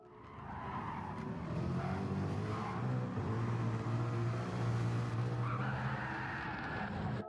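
A race car spinning out in Gran Turismo 7, tires skidding and squealing in a long sustained screech over a droning engine, loud and close, with no talk.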